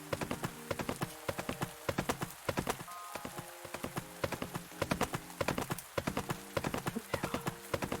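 A horse's hooves clip-clop at a steady trot while being ridden in the game Zorah, close and rhythmic throughout, with a soft patter like rain beneath.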